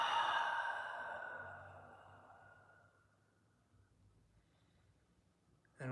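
Long exhale during a breathing meditation: one slow, breathy sigh, loud at first and fading steadily over about three seconds into near silence, heard close and alone.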